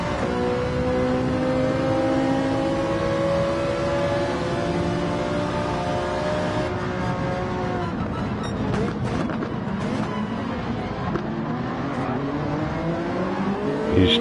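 Race cars battle at the Autopolis circuit in a racing video game, engines roaring continuously with rising and falling revs. Layered exhaust tones and brief tire squeal come in mid-race, loud and unbroken throughout.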